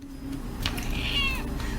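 A house cat named Oogie gives a single clear meow with a rising then falling pitch, fairly close over a steady low room hum.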